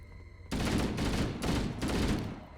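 Sniper rifle fire in Halo: Combat Evolved bursts in abruptly and loud, a dense, booming barrage that rolls on in heavy waves for about two seconds without any talking.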